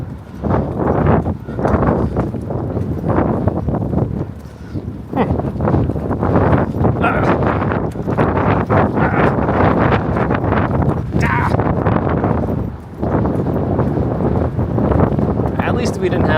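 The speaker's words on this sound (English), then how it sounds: "At least we didn't have this wind" Wind buffets the microphone outdoors on a walk from Brooklyn to Manhattan over the Williamsburg Bridge in New York City, a loud, steady rushing roar that barely lets up for the whole stretch.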